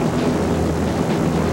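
A biplane giving a half-hour aerial tour over the White Mountains of New Hampshire, heard as a loud, steady roar of propeller engine and wind noise close by, with no voices over it.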